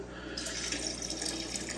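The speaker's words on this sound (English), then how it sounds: "I'm just going to pour some of this water in" Water poured steadily into an aquarium to acclimate new fish, a continuous close splashing trickle with no talk.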